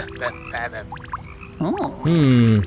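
A frog croaks in the cozy video game Cozy Caravan: a few short chirpy calls, then two longer, loud, warbling croaks that swoop and hold, close and alone.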